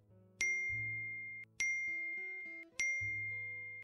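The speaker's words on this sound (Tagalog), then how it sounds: "Alam mo, kanina pa yung phone mo tunog ng tunog." A mobile phone rings with three repeated bright chiming tones, each bursting on and fading as it sustains, alongside a soft melodic ringtone underneath, clear and close.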